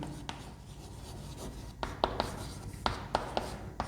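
Chalk or marker writing on a classroom board, soft scraping strokes with several sharp taps and scratches clustered in the second half, fairly faint with room hiss behind.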